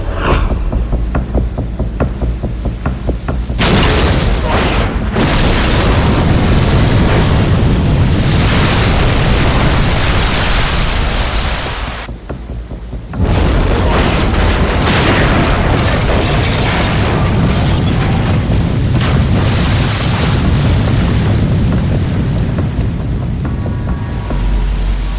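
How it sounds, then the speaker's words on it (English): A torpedo blasts beneath a ship's hull in a deep, roaring underwater explosion that sustains a heavy rumbling wash, breaks off briefly, then surges back loud and continuous. "when the torpedo explodes directly beneath the hull, it creates a massive air pocket into which the ship sinks, literally breaking its back"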